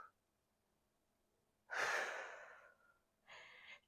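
Heavy breathing during a Pilates glute workout with a ball at home: one long, forceful exhale followed by a shorter breath, close and distinct against near silence, with no talk.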